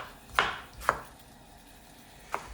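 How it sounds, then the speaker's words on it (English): A kitchen knife chops through half a tomato in three sharp, distinct strikes: two in close succession, then one more after a pause, each crisp and close against quiet room background. "Here's a tomato. I took a salad to lunch today. Used half of it. Let's chop the other half."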